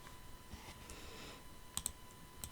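A computer mouse clicks on OK in Photoshop, a pair of crisp, quiet clicks near the end over faint room hiss, with a couple of fainter clicks following.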